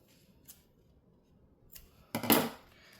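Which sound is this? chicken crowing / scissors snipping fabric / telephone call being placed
scissors snipping fabric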